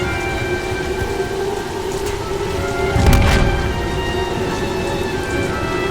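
Steady heavy rain pours during a storm in Lara Croft and the Temple of Osiris, with a low thunder rumble swelling midway beneath the constant downpour.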